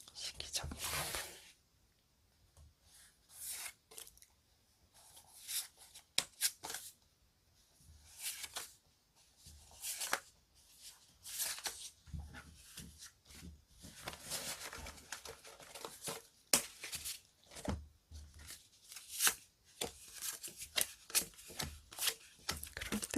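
Tarot cards are shuffled and handled up close in repeated soft riffles, slaps and papery flicks, with quiet whispered talk heard between the bursts.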